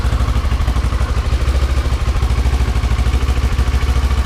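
Stock motorcycle fitted with a Delkevic SS70 slip-on exhaust idling cold just after starting, a steady, close, rhythmic low thump with even pulses and no talk.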